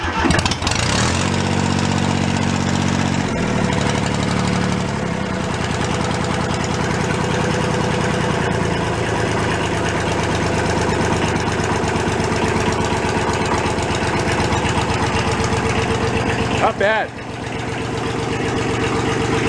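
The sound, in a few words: thrashed Kubota diesel tractor engine idling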